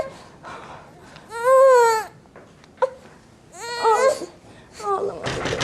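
A baby cries in loud, wavering wails and whimpers that rise and fall in bursts, close by, with an adult voice speaking softly between the sobs.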